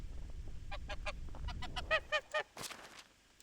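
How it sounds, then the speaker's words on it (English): Geese in the medieval farming game Medieval Dynasty honking, a string of nasal calls that builds to three loud close honks, over low rumbling background and a brief rustle near the end. "Geese, geese, geese."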